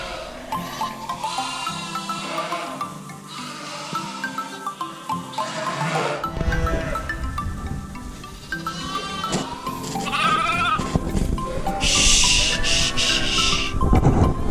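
Lambs bleat repeatedly on a sheep farm, some calls near and others farther off, overlapping in an irregular chorus with occasional rubbing and wooden knocks.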